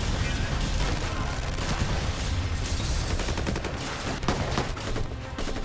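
Dense, continuous gunfire with machine-gun bursts and explosions in an action-movie battle scene, loud and relentless throughout with no pauses.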